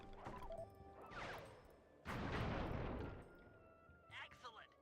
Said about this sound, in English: hold down the L1 button to load fireworks. Release the button to launch them.